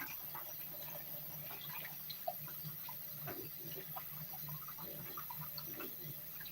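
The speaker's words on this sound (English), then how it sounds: "I like to wash the cheese grater right away." A cheese grater is rinsed under a running kitchen tap, faint steady water flow with soft scattered splashes and clinks of metal in the sink.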